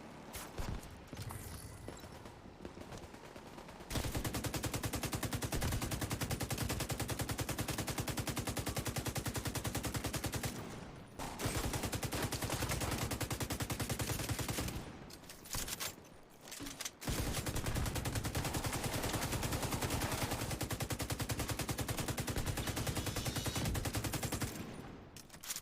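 Dense gunfire in a Tom Clancy's Division 2 firefight, rapid sustained bursts and loud shots with brief pauses between volleys.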